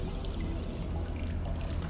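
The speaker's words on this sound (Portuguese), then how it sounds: "Tem um pouco de água correndo, mas não é o suficiente" Running water in the video game Portal Stories: Mel, a steady trickling, pouring flow with a low rumbling bed beneath, continuous and fairly close throughout, with no voices.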